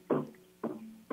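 Bass guitar tuned to 440 Hz, three plucked notes a half second apart, each a punchy attack followed by a ringing low tone that decays, moderately quiet with no talking.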